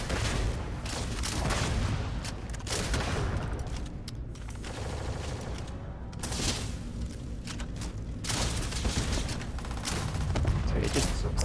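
Rapid bursts of gunfire from a weapon in the space game Starfield, loud and dense with repeated broadband cracks and clanking mechanisms, pausing briefly midway before resuming, with a steady roar of game ambience underneath.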